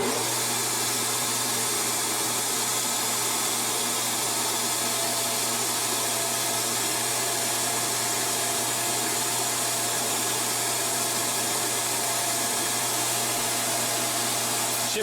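A milling machine cuts metal at 1200 RPM with a 10-thou-deep pass, producing a steady, loud whine and whirring drone that stays constant and close throughout, with no talk.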